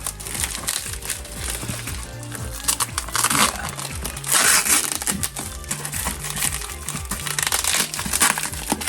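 Packing tape crinkles and rips loudly during the unboxing of a Lionel NYC Pacemaker 2-4-2 steam locomotive set, a dense run of crackling, tearing bursts that carries on steadily with no voice.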